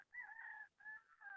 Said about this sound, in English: you might hear a chicken noise potentially in the background